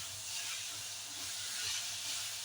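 Steady hiss of water poured into a hot pan of raw mango chutney with sugar, a broad even sizzle lasting throughout with no voices.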